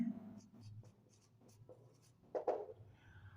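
Pen or chalk strokes scratch out short bursts of writing during a maths lecture, several quick, faint marks in an uneven rhythm with a brief louder stroke near the end.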